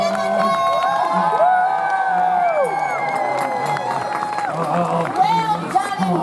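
A crowd at a Renaissance faire tournament cheers, whoops and applauds for young fighters, a steady roar of voices with children shouting, while an announcer speaks over it.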